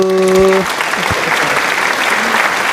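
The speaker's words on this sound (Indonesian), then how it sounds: "Yuk Ibu Bapak kita berikan apresiasi tepukan yang gemuruh." An audience at a civil-service briefing session claps loudly and warmly, a dense burst of applause that follows a short tone at the start and carries on evenly to the end.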